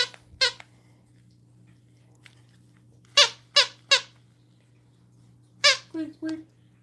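A Chihuahua named Maya working a squeaky toy, giving short sharp squeaks in scattered bursts, two early, three in quick succession mid-way and a final cluster, close and clear over a low steady hum.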